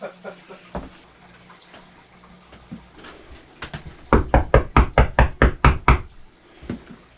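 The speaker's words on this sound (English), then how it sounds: "I'll knock on it if it works." Knuckles rap on a newly installed light fixture: a few scattered knocks, then a rapid close run of about ten loud, evenly spaced knocks, followed by a couple more.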